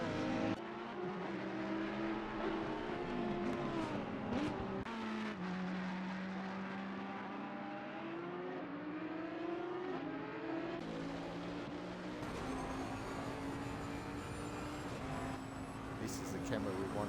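Race cars in Assetto Corsa Competizione sweep past the shakedown stand at Bathurst, engines rising and falling in pitch as they pass one after another, loud and close under steady commentary.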